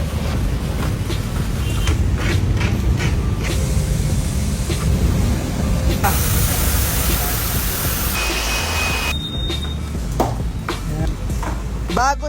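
Pressure washer spraying a motorcycle during a detailing wash before ceramic coating, a steady loud hiss of water hitting the bodywork with shifts in tone as the spray moves, continuing throughout.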